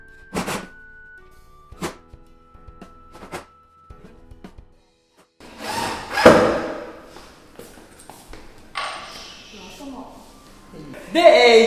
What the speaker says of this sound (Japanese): で、裏面にしまして、こういうところに木ネジを打っていきます。